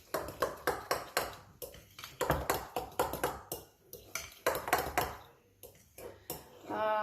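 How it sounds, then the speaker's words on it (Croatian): Utensils scrape and clink in a bowl while stuffed Easter egg filling is mixed, a busy run of metallic taps and scrapes throughout, with a brief bright ring near the end. "Ćemo sve pomiješati."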